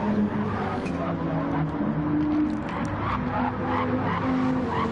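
Car drifting through corners at Autopolis in a PS4 racing game, with steady engine roar and tyre squeal running throughout, loud and continuous with faint commentary beneath.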